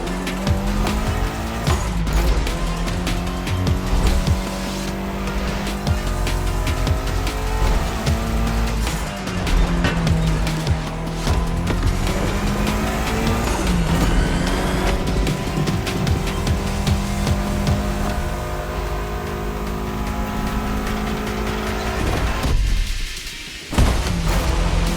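Race cars in the driving game The Crew Motorfest roar continuously, engines rising and falling in pitch through gear changes, with tire squeals and skids layered in; loud and close, briefly cutting out near the end, no voices.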